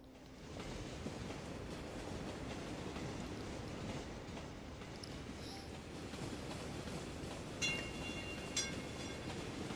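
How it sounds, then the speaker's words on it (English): Trams run through a city in the game Cities: Skylines, a steady rolling rumble with faint rail clicks and a couple of short metallic squeals near the end. "here's the first of our trams coming out now"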